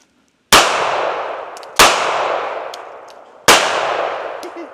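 Three sharp pistol shots from a Smith & Wesson Bodyguard 2.0 at a shooting range, each a loud close crack followed by a long decaying ring, spaced about a second or more apart with no talking.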